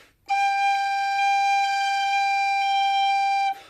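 A tin whistle sounds a single sustained G note, steady and clear with rich overtones, held alone for about three seconds before stopping cleanly.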